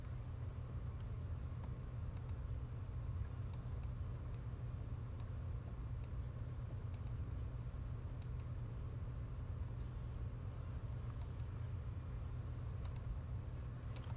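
A bus in RollerCoaster Tycoon 3 gives a low, steady engine rumble and road drone, with faint ticking clicks scattered throughout and no voices.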